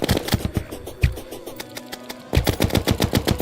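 Rapid gunfire in Terraria, bursts of sharp repeated shots in quick rhythm, pausing briefly in the middle before another fast volley, loud and up front.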